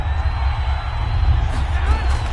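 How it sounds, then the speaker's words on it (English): Crowd noise in a football video game swells as a steady, moderately loud roar of cheering and whoops around a big third down, with a commentator's voice woven through it. "The crowd getting into it as we come up on a big 3rd down."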